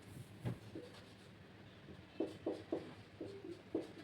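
Pen strokes on paper as a formula is written out in a chemistry lesson, a series of faint, short scratchy bursts spaced irregularly in a quiet room.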